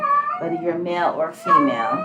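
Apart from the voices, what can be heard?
cat in heat meowing in the background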